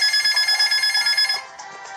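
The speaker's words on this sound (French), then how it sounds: "encore un téléphone qui sonne" A video-game phone rings in a fast electronic trill of repeated bursts, loud and alone, with a Pokémon Mystery Dungeon dungeon setting, stopping partway through.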